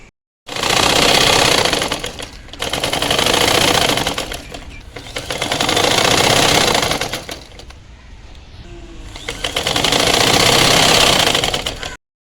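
An electric sewing machine runs in several loud, fast bursts with short pauses between them while stitching fabric from an old salwar into a cord set.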